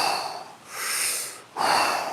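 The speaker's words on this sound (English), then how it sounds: "Nice big breaths in." Deep breaths drawn in during a guided breathing exercise: two long, airy inhales close to the mic, the second beginning sharply after a short pause.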